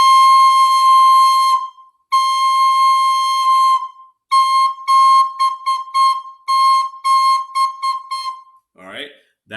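Recorder playing the note C: clear, loud whistle-like tones in two long held notes and then a string of short repeated notes, ending with a brief unrelated noise.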